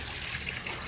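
Water pours steadily into a swimming pool at dusk, a continuous hissing, bubbling trickle with no pauses, close and fairly loud.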